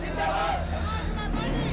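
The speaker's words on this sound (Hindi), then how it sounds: "भीड़ अच्छी इकट्ठा हुई है यहाँ।" A dense murmur of a large crowd gathered outdoors in India, voices blending into continuous babble with occasional raised shouts, steady and close.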